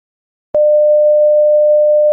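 A steady 600 Hz sine tone generated by code starts abruptly and holds at an even pitch and loud level for about a second and a half, alone with no other sound.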